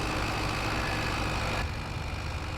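An 85-horsepower tractor engine in Farming Simulator 22 drones steadily at a constant low idle. The sound is close and continuous and eases slightly in the last second, with no talking.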